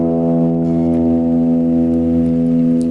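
Low E string of a guitar tuned for a song, plucked once and ringing loud and steady with a rich harmonic tone for about three seconds, alone.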